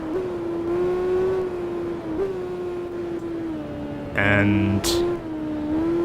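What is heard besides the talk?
Suzuki motorcycle engine racing in video game Tourist Trophy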